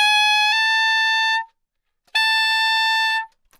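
Two long, bright, high altissimo F sharp saxophone notes on a fork fingering with the bis key, played alone, each held just over a second with a brief pause between.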